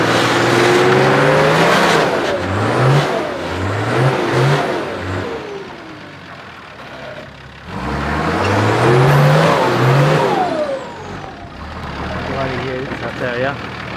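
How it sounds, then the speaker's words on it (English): A single-cab Nissan GQ 4WD, twin locked on 35-inch tyres, revs hard climbing the sandy Little Red dune, engine surging and dropping in repeated bursts, with people talking and cheering nearby. "He's driving a single cab GQ twin locked"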